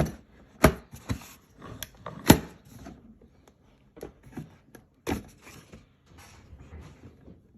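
Clicks and clacks from an aluminum latch on a cheap $20 toolbox being worked, a series of sharp, close metallic snaps and knocks at irregular intervals with quieter rattling between.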